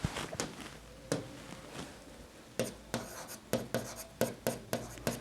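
A pen or chalk writes notes during a geography lesson, producing rapid scratchy strokes and taps in irregular bursts that quicken toward the end, close and fairly soft with no talking over them.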